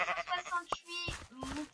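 Sheep in the blocky farming game PixWorld bleat several times in quick succession, clear and close, with some other game sounds between the calls.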